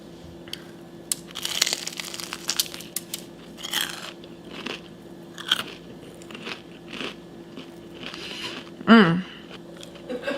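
Crunchy bites into a fried egg roll stuffed with hot Cheetos, followed by close, crackling chewing in bursts across ten seconds. A brief sharp squeak comes near the end, with light background noise and occasional faint voice sounds.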